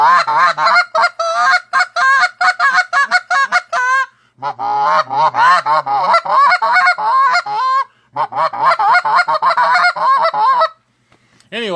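A goose call fitted with a Delrin insert is blown close and loud in rapid, rhythmic honks and clucks, with short pauses between strings of notes, imitating geese.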